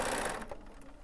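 Bernina sewing machine running briefly while stitching piping with a piping foot, a steady close mechanical whir that fades slightly toward the end.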